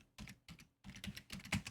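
Quick bursts of keystrokes on a computer keyboard as a search term is typed in a Korean web search box, with distinct clicks and short pauses between bursts, heard close and with no talking.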